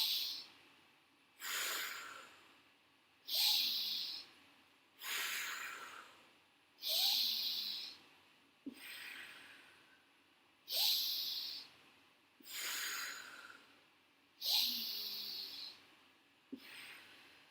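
Slow, deep yoga breaths are close and clear, with eight or nine long airy inhales and exhales in a steady rhythm, each swelling and fading with short quiet gaps between.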